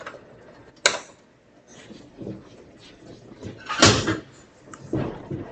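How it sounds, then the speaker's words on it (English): An oven door in a home kitchen opens with a sharp clunk and creak, followed by soft rattles and a louder metallic knock as a tray of cornbread goes back inside, close and fairly quiet. "I'll just open the oven door and set the cornbread back in there."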